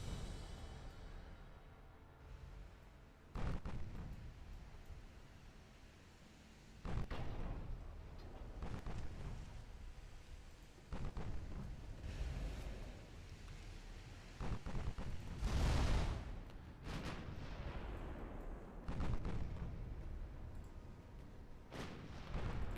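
Naval gunfire in the warship game Ultimate Admiral Dreadnoughts: heavy booming salvos fire repeatedly at irregular intervals over a rumbling battle backdrop, with one especially loud, close blast near the middle.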